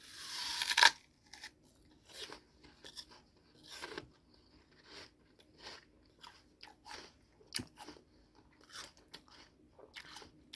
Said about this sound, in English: I'm gonna chew on this